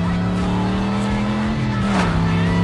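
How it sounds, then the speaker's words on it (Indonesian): A car revs and accelerates hard, its engine note climbing and shifting pitch, loud and close over continuous background music with a narrator's voice running over it. "Dia langsung memacu mobilnya hingga sampai di sebuah kota."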